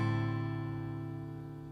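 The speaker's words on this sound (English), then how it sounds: "we're in standard tuning. We've got a capo on the 5th fret, so it should sound like this" One strummed chord rings out on a guitar in standard tuning with a capo on the 5th fret, a single close, fairly quiet strum that slowly decays.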